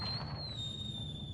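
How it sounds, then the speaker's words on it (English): Fireworks crackling and rumbling in a Dragon Age Inquisition game scene, a steady low rumble with a sustained high whistling tone running throughout, moderately loud with no talk. "The encore signal! Fireworks."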